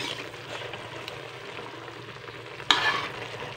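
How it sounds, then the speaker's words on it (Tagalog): A spoon stirs a pot of adobong sitaw, string beans and pork simmering with laurel leaves in soy sauce, under a steady low sizzle and bubble, ending in one sharp scrape or clank against the pot. "I'm going to give it a little stir"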